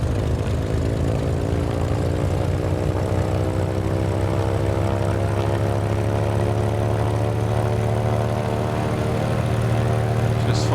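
Piston engine of a Carenado T34B Mentor trainer in Microsoft Flight Simulator, throttled up toward 1700 RPM: a loud, steady propeller drone with a slowly rising pitch and no pauses.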